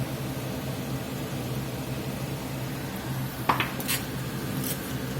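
Steak fajitas with seasoning get stirred in a hot skillet: a steady sizzling hiss underneath, broken late by a few quick scraping clinks of a utensil against the pan, up close.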